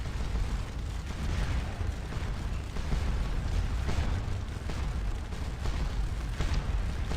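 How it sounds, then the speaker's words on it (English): Canister fire from artillery in the Napoleonic battle game Scourge of War Waterloo: a dense, continuous roar of overlapping booms and crackling bursts, loud and sustained, with no voices. "the canister fire is ripping into them"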